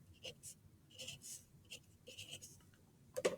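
Pen or pencil writing out precalculus notes by hand: soft, intermittent scratchy strokes in short bursts, close and quiet, ending with a slightly louder tap.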